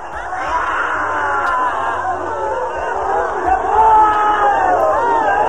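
A crowd shouts and cries out together during an Osho active meditation, a dense sustained roar of many voices that swells slightly toward the end.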